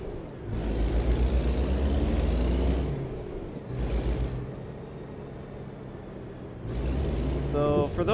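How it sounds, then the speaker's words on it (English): A truck's parking air brake is released in American Truck Simulator: loud pneumatic hisses and bursts of air rise and fall several times over a steady idling engine drone. "Release that parking brake."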